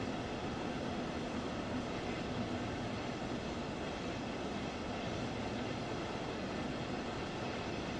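A train in Train Sim World 4, heard from outside, gives a steady, loud rolling roar and rumble of wheels on rails that holds constant throughout, with no voices.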